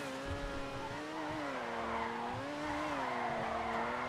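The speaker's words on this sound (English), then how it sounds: "you can sort of drift or slide or power slide, whatever you want to call it" Overflod Entity MT supercar drifting in GTA 5, a sustained tire squeal with a wavering pitch laid over a steady engine drone, loud and continuous throughout.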